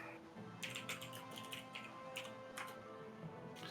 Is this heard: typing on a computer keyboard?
yes